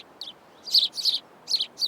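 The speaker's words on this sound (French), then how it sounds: "C'est alors que des oiseaux nous attirent à eux." Several bright bird chirps in short bursts, some close together and others spaced apart, ring out clearly above a faint hushed forest background.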